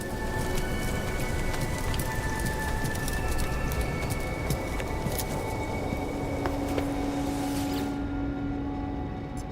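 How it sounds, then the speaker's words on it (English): Dense steady rain pours in a video game as a storm approaches, with a low rumbling undertone of thunder and scattered sharp drops, loud and continuous before fading slightly at the end. "let's hurry before the storm really hits"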